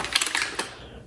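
An early iMac G4-era Apple Pro keyboard being handled gives a quick burst of light plastic key clacks and taps, close and crisp, fading into quiet within a second.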